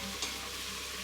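Onions and potatoes with a green chili sauteing in a pan, a steady soft sizzle with a brief stir scrape near the start, continuous and close with no voices.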